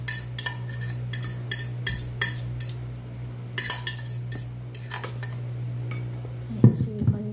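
A utensil stirs banana cake batter in a bowl, making a steady series of light clinks and scrapes against the sides over a constant low hum, with a louder clatter near the end.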